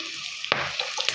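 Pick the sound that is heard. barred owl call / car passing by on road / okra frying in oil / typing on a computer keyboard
okra frying in oil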